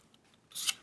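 One quick snip of scissors cutting paper, near and crisp, coming after a near-silent moment.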